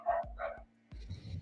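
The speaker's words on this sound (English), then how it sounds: "Oh my god, those dogs are being loud." Dogs barking loudly in two or three sharp, close barks, a brief pause, then more yipping and barking.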